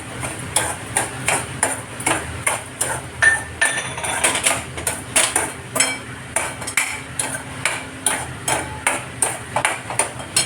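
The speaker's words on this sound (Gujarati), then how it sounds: "હવે હું આખું 1 વાટકો ભરીને આમાં મિશ્રી પધરાવી દઉં છું." Rock sugar stirred into a pan of semolina for rawa shira, giving a steady rhythmic run of metallic scraping and clinking strokes, roughly two per second, close and alone.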